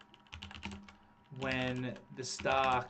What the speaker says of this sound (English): just typing up Coursera here as an example